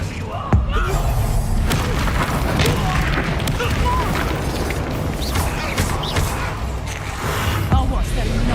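Bombarda spell explosions in the video game Hogwarts Legacy, a sharp blast near the start and another near the end amid a dense, rumbling battle mix, with a voice talking over the action.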